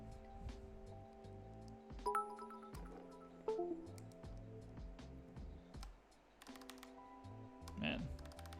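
Keystrokes on an ID80 mechanical keyboard fitted with tall SA-profile keycaps clack in irregular bursts, close and moderately loud, mixed with a steady tonal background and a voice talking.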